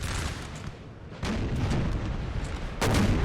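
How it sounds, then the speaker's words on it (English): Artillery booms in the Napoleonic battle game Napoleon Total War at Aspern-Essling, Austria versus France: cannon shots thud out in a dense, rolling barrage, with sharper reports near the middle and end, loud and without speech. "Austria does have some good artillery shots too"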